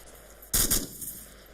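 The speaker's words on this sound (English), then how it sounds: "instead of firing a single shot, you're gonna fire a burst of rounds" A short, loud burst of rifle fire in the military shooter ArmA 2, two or three rapid shots merging into one crack with a brief fading echo against quiet background hiss.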